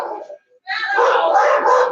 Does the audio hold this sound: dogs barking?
yes